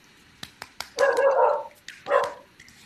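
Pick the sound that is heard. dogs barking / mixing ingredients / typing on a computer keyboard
dogs barking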